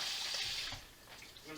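Water runs steadily from a tap into a kitchen sink to rinse a few potatoes, a soft close hiss with faint splashing.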